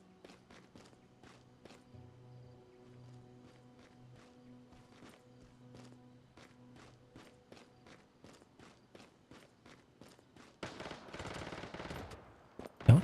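Rapid gunfire in the online survival shooter Once Human, a long string of sharp, evenly spaced shots over a low droning hum, ending in a burst of louder, denser blasts and noise.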